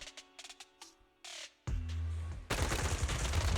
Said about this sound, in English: A sharp gunshot echoes from not far away like the crackling of a dry firework